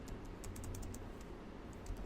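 Quick, quiet keystrokes on a computer keyboard while code is typed, a short irregular run of close clicks over a low steady hum, with no voices.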